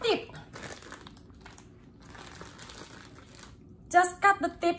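A plastic Ziploc bag crinkles and rustles while a cendol mixture for Indonesian iced sweet dessert is spooned into it, with steady soft handling noise and a few sharper crackles near the end.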